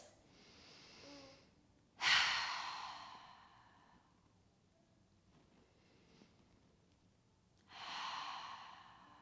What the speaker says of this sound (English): Exhale, open your mouth, let it go.